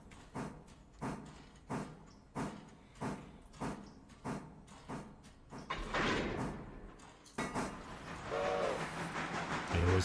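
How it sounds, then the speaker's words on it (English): Wagons being shunted in the train game Railroader: a steady series of rhythmic clunks and thumps from rolling rail cars, then louder grinding, hissing rail noise with a brief squeal near the end. "There was plenty of shunting during the day."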